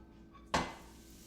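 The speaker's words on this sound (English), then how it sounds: "And going to add the ground turkey to the pan." Ground turkey dropped into a pan for meal prep, a single soft thud with a brief clatter of the pan, then quiet fading, close and fairly faint.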